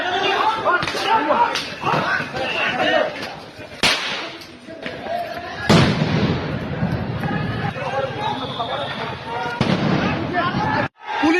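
During street clashes with police at Dhanmondi 32 in Dhaka, sound grenades go off one after another as sharp, loud cracking blasts at irregular intervals, over shouting and a tense crowd with a person talking.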